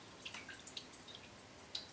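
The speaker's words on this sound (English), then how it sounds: "just let as much water drain out as possible" Water drains from a potted cymbidium orchid as a few faint, scattered drips patter softly into a tray against a quiet background hiss.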